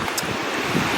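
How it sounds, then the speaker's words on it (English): Ocean waves wash in at a shoreline at early morning before a kayak outing, a broad rushing surf mixed with heavy wind buffeting the microphone, steady and close, with no one speaking. "You can probably hear the waves because we decided to come out by the water and kayak"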